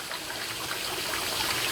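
Water pouring from the spout of a spring, a steady, close splashing rush of flowing water without pause and no voices over it.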